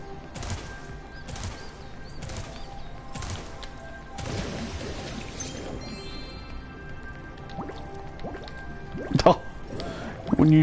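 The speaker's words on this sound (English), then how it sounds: "When you try to flame, he just bubbles." Watery bubbling from the dragon in a Spyro game when he tries to breathe fire underwater, soft drips and squishy gurgles repeating through the stretch, with a burst of louder splashy bubbling near the end and speech around it.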